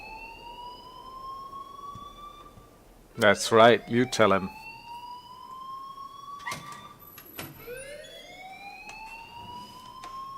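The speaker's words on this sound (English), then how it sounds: "please turn off that alarm since that's your job" An alarm in the Life is Strange video game sounds as a sustained rising and falling siren-like wail, repeating in sweeps, with a voice speaking briefly over it.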